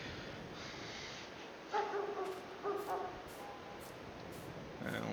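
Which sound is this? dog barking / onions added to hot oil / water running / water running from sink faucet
dog barking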